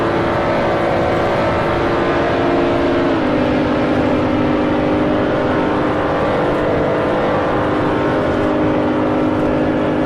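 A BMW Z4 Stage 1 race car in a racing video game pulls hard uphill in sixth gear, its engine a loud, steady, close droning whine that shifts slightly in pitch early on, then holds on without any talk.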